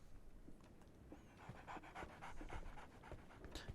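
A dog in a Sherlock Holmes video game pants quickly and steadily in rhythmic breaths, close and fairly quiet, with no talk over it.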